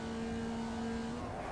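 A Formula Vee race car engine in the iRacing simulator at Tsukuba, held at a steady high-revving buzz with a constant droning pitch, loud and continuous with no talk.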